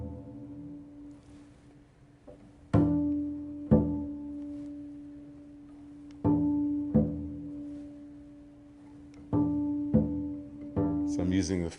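Double bass harmonics ring out on the D and G strings during tuning, a series of clear sustained bell-like tones plucked one after another with sharp attacks and long decays, close and solo.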